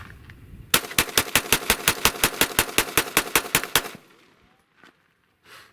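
A Glock pistol fires about fifteen rapid, evenly spaced sharp shots from a polymer magazine, loud and close, then falls to a quiet outdoor hush with a couple of faint distant knocks.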